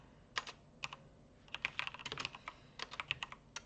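Fast, uneven bursts of key clicks from typing on a computer keyboard, close and clear with short pauses between flurries and no talking.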